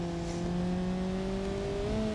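The 4-cylinder engine of a Covet car running on nitrous in a driving game hums at a steady, slowly rising pitch, a loud, continuous drone with no talking over it.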